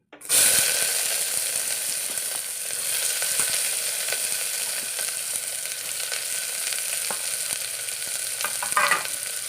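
Onions frying in coconut oil with cinnamon pieces and star anise in a cooker, a steady close sizzle running throughout with faint stirring scrapes and a clink near the end.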